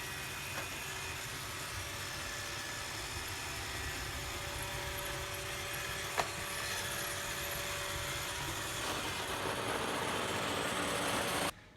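An iRobot Roomba 615 robot vacuum roams around a house cleaning, giving a steady whirring motor hum with a faint tonal whine, continuous and close for the whole stretch, with one brief bump midway and no talk.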